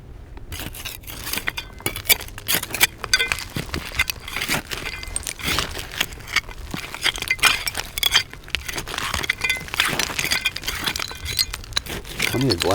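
Old glass bottles clink and scrape against each other and against the dirt as they are dug out of a buried mound, in a busy run of sharp clinks and rattles, close up with a voice talking now and then.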